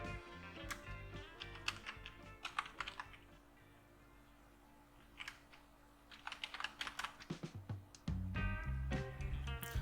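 Keys clacking on a computer keyboard while text is entered into a graphics program, coming in irregular bursts of close taps with short pauses and a low steady hum underneath.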